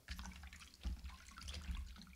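Water splashes and sloshes from a pail as a sound effect in a vintage radio play, a steady wet churning with a couple of heavier splashes.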